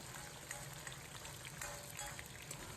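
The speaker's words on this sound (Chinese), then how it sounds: "放入准备好的香菜，继续开中火在锅中炸约2、3分钟" Spices and cilantro fry in hot oil in a wok over medium heat for chili oil, a steady dense sizzle and crackle with scattered pops throughout, close and continuous.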